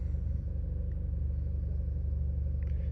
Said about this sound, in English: Some funny noises coming out of the gearbox, which is to be expected